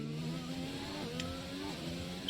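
A Formula 1 race car in the F1 2020 video game laps Interlagos in Brazil, its engine droning steadily with rising harmonic sweeps as it accelerates and shifts, loud and continuous throughout.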